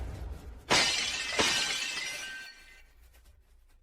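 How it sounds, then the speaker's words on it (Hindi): A vase shatters indoors with a sharp crash of breaking glass, followed by a second smaller crash and a brief tinkling of fragments settling, fairly close and with no voices. "किसने तोड़ा फूलदान?"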